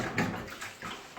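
Hot quicklime mortar is dumped into water, giving a short wet slosh and splash with a brief gurgle near the end, close and fairly quiet.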